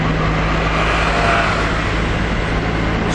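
Steady road noise heard from inside a moving car, a continuous broadband rumble and tire roar with a faint low engine tone, loud and unbroken throughout.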